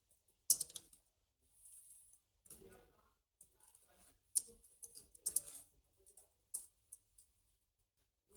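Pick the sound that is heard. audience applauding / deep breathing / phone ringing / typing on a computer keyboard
typing on a computer keyboard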